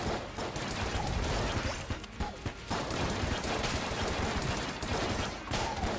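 Rapid gunfire from the Gunther gun in the video game Enter the Gungeon, a dense, loud stream of shots and impacts that runs almost continuously with brief breaks.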